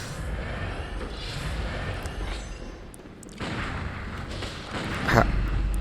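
Gunfire in the video game Bloodborne, with repeated blasts and booms over a dense, noisy game soundscape and a sharper, louder hit near the end.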